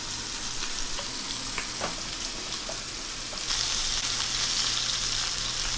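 Scallops sear in a hot pan with a steady, loud sizzle and crackle; the frying hiss swells a little louder toward the end, with no voices.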